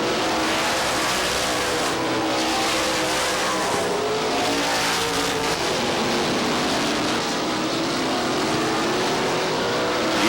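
NASCAR Modified race cars roar around Star Speedway in a 1990 Winston 150 race, a dense, loud, continuous engine wash with swelling passes and occasional tire squeal.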